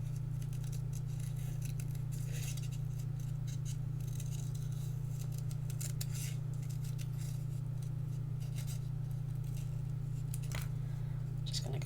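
Scissors snipping curved paper leaf shapes for a handmade thank-you card, a steady run of soft close crisp cuts over a constant low electrical hum, with no talking.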